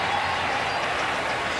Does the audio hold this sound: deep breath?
no